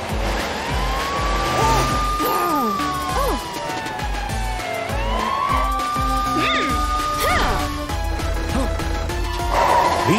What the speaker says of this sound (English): Here's Matilda the police car chasing Crocomile